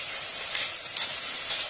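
Onion sizzling and frying in a pan for saltfish stew, a steady bright crackle with a few stirring scrapes, close and continuous, with no talking.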